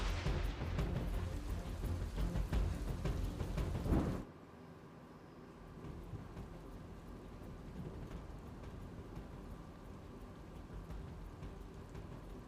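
Early monsoon rain falls heavily in Rajkot, a loud roaring downpour that abruptly drops to a softer, steady patter of rain.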